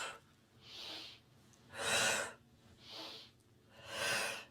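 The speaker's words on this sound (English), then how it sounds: "inhale" Four strong, rhythmic breaths pump in and out during a yoga breath pump exercise, each a close, airy rush through the nose, evenly spaced about a second apart with quiet gaps between.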